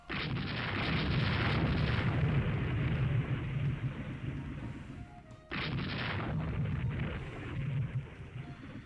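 Sustained naval explosions and heavy booming in the Rule The Waves 3 warship game during a torpedo attack, a long loud roar that cuts off abruptly and then resumes just as loudly.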